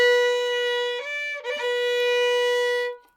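A single sustained note tapped with the third finger on the violin's A string, breathy and flute-like like a Native American flute, ringing steadily for about three seconds with a brief wavering dip midway before fading out.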